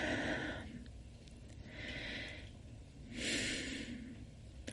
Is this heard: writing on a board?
no